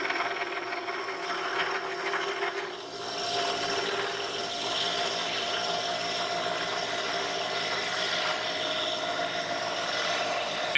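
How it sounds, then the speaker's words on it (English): A drill boring the last hole through a wooden board for a smokehouse build, a steady whirring grind held at a constant level for the whole stretch, close by, with no talking. "when I get this last hole drilled"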